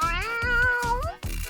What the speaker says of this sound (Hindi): ओह, एक बिल्ली का बच्चा।